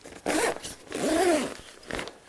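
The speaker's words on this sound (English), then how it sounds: "Just kind of zip him up." A zipper on a bag is pulled closed in three quick strokes: two longer rasping runs, then a short final tug, close and clear with no talking.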